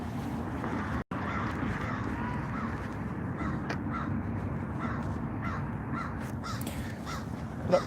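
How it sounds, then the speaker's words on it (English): A crow caws repeatedly at a distance outdoors, its short harsh calls coming in a loose series over a steady rush of wind or background rumble. "What up, crow?"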